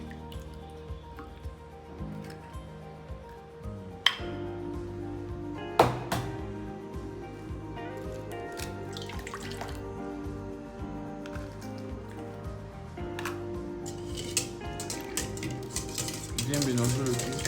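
Milk and two eggs are stirred together in a bowl, with a soft liquid swishing and a utensil clinking against the sides in a steady rhythm, quiet and close, with no voices.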